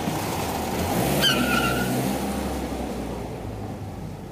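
A cartoon car drives off with a steady low engine rumble, and a brief high tire squeal cuts through early on.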